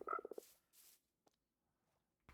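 A frog in the Minecraft video game croaks in a quick pulsing burst of several rapid clicks, followed by soft breathy game noises and a couple of faint isolated clicks, with no talking.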